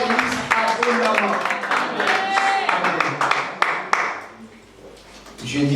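A church congregation at a Sunday service bursts into applause, dense clapping filling the room over several seconds amid cheering voices and a speaker talking, then fading briefly before rising again.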